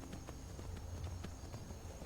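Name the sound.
horse hooves clip-clopping while riding in Skyrim video game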